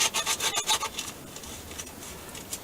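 Sanding a metal ground contact for a screw on a VW bus, with a quick run of rough rhythmic scratching strokes up front that thins to faint, lighter rubbing.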